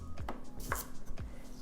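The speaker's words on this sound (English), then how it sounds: "what I like to do is actually cut my celery in half" Knife chops celery on a cutting board in a home kitchen, giving three or four crisp separate thuds at an even pace, close and quiet.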